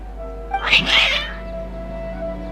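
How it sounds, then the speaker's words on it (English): Video game cats letting out a quick pair of agitated meows, fairly close and clear over a low steady background hum, with no speech. "Your cats seem pretty worked up."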